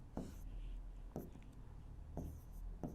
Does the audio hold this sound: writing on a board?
yes